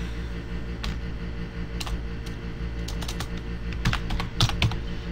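Fingers type on a computer keyboard while entering an Excel formula, with sparse, then quicker clusters of crisp close key clicks over a low steady hum.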